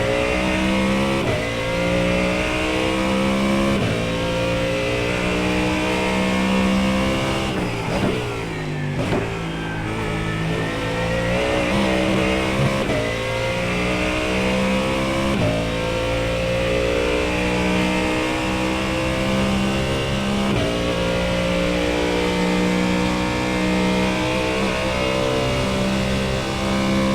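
Mustang GT3 race car engine in iRacing at Bathurst, loud and continuous, revving through gear changes with rising and falling pitch, one sharp dip near the middle before pulling hard again.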